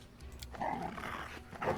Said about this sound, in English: Puppies.